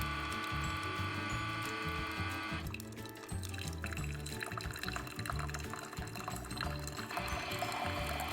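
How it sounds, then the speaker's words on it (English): Water running through a personal coffee maker during a cleansing cycle, a steady gurgling trickle of liquid that stays even and fairly quiet throughout, with no voices. "And there goes the water."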